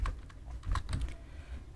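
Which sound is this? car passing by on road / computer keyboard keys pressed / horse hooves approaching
computer keyboard keys pressed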